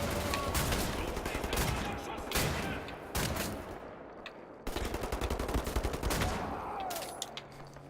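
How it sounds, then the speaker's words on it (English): Futuristic shotgun blasts in the shooter game Wolfenstein: The New Order, several loud booming shots in quick irregular bursts over dense gunfire and combat noise, with brief pauses between volleys. "The cool futuristic shotgun"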